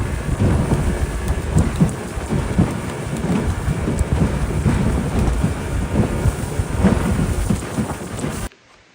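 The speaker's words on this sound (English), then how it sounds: "if you're going to come visit the rainforest, don't be surprised if you get rained on" Steady heavy rain pours down in a Guyana rainforest with rumbling thunder rolling underneath, dense and continuous, close and loud, then cutting off abruptly at the end.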